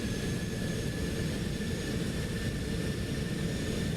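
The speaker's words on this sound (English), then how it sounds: "This is a pretty fun airplane to fly." Cessna Citation C750 jet in X-Plane 12, a constant broadband jet engine roar with a faint high whine, steady and unbroken, with no voices.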